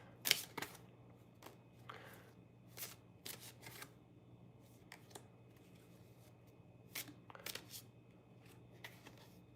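Tarot cards being shuffled by hand, quiet and close, with a series of soft riffling snaps and flicks scattered irregularly over a faint background hum.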